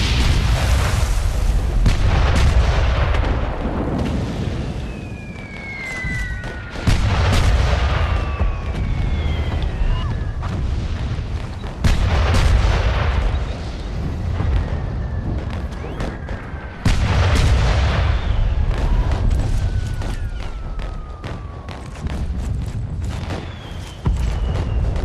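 Heavy artillery guns in the World War I game Valiant Hearts: The Great War fire repeatedly, loud booming blasts every few seconds with long rumbling decays and whistling shells overhead, with no talk.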